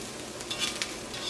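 Ivy gourd (kovakka) pieces fry in a thick pan with a soft, steady sizzle, broken by a couple of light scraping stirs, quiet and close.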